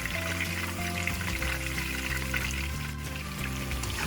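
Beef ribs pan-searing for beef adobo with coconut milk, a steady loud sizzle and crackle of frying meat filling the whole stretch without talk.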